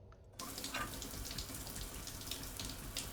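A shower in the space game Stationeers starts abruptly and runs with a steady, soft rush of falling water, faint and continuous.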